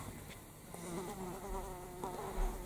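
A housefly buzzing around a room, droning steadily close by with faint rising and falling whine, alone without talk.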